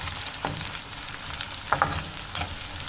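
Cumin seeds and black pepper frying with lightly golden onions in a pot, a steady soft sizzle with a few small crackles and stirring clicks, close and without voices.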